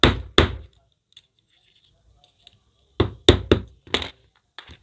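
Sharp metallic hammer strikes ring out as a small hammer straightens the thin metal plate of an electric iron's thermostat, delivered in quick clustered taps with brief pauses between bursts, close and loud.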